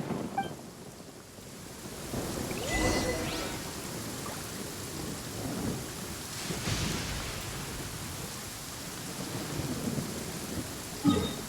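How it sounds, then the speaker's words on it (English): Thunderstorm in the Genshin Impact video game: steady heavy rain and wind with rolling thunder rumbles building near the start and middle, plus a sharp crack at the end, with no voices. "Please stay indoors until the storm passes."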